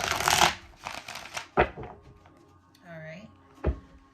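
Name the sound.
shuffling sticky tarot cards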